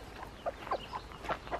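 Garden hens cluck softly near a chicken coop with a mother hen and her chicks nearby, several short, rounded clucks coming in an irregular series at moderate distance over quiet outdoor background.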